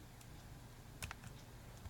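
Computer keyboard arrow keys pressed to move in a game: a few quiet, close clicks clustered near the middle over a faint steady hum, no voices.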